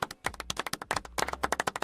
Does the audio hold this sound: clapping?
yes